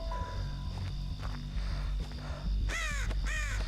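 A crow caws twice in a video game, harsh descending calls arriving late and loud over steady footsteps and a low ambient drone.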